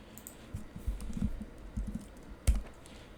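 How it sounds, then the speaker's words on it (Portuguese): Key presses on a computer keyboard while working in an Excel spreadsheet, a handful of soft, irregular clicks and taps with one sharper keystroke near the end, close and quiet, with no voices. "Dá um F4 aqui no teclado"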